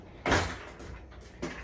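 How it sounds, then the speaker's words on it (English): A kitchen drawer pushed shut with a sharp, close knock, followed by a softer second bump a moment later; no talking. "Let me shut that drawer."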